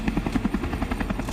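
A patrol helicopter flies over the Kumbh Mela grounds, its rotor thumping in a steady, rapid rhythm under a constant engine roar, fairly distant and even in level.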